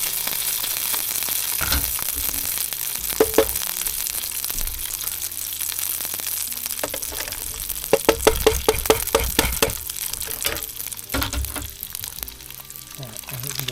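Eggs frying in a pan on a Trangia 25 Duossal alcohol stove, a steady close sizzle with clinking and scraping of a utensil against the pan at intervals.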